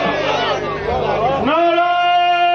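A gathered crowd at a Shia majlis shouts back a religious slogan in a loud, jumbled chorus of many voices, which gives way to one man's drawn-out, ringing call.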